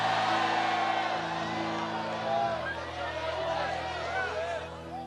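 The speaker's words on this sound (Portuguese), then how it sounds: "dê mais um grito de glória para esse lugar tremendo" A church congregation erupts in shouts of glory, a dense crowd roar of whoops and cheering voices filling the hall, with organ-like sustained tones underneath.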